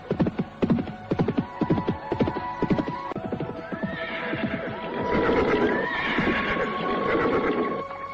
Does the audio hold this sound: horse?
yes